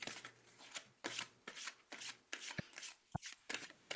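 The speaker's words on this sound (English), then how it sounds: "So if we shuffle again." Oracle cards being shuffled by hand, a run of quick papery riffles and slides in short bursts, close and fairly quiet, with a couple of soft taps between them.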